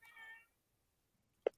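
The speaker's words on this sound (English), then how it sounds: "My cat is in my ceiling." A cat meows from inside a ceiling, one drawn-out muffled meow followed after a pause by a short sharp meow, faint and somewhat distant.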